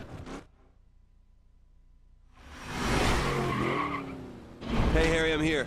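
A truck in the racing game The Crew skids with squealing tires while evading police, a loud sustained screech swelling then cutting out, followed by another burst of skidding; a voice speaks over part of it.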